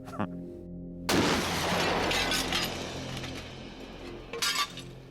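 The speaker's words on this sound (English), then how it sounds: "So the bullet hit the glass and darned if it didn't break it." Glass shatters loudly when struck by a bullet, a sudden burst of breaking and crashing fragments that rings on, followed by a second, shorter burst of tinkling glass.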